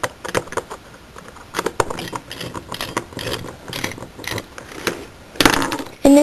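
A 2x3x3 twisty puzzle being tightened and turned by hand, with a run of irregular plastic clicks and ratcheting snaps, close and fairly quiet, ending in a sharper burst of clatter.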